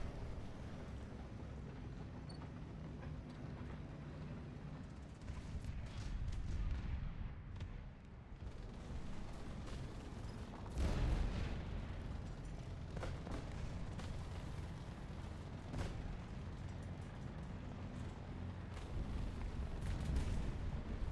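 Heavy tank cannon fire in the War Thunder video game: rumbling low-end booms and distant blasts over a continuous engine-like drone, medium loudness, no talking.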